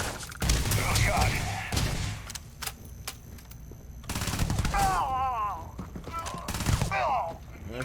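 Rapid bursts of gunfire from the space game Starfield crack out in clusters near and loud, mixed with thuds and shouting voices talking over the shots.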